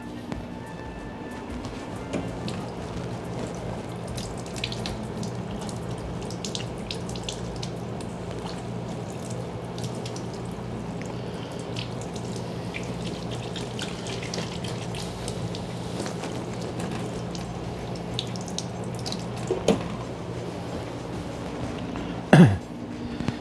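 Tap water runs steadily over a squid tube being rinsed under a kitchen faucet, a low continuous wash with a few louder splashes near the end.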